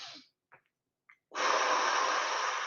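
A slow, forceful exhale during a Pilates mat exercise, heard as a long breathy rush lasting over a second after a quieter breath and a couple of brief small sounds.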